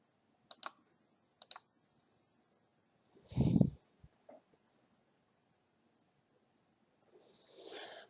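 Two sharp computer mouse clicks near the start and another soft click later, with a louder thump and rustle between them, in a quiet room.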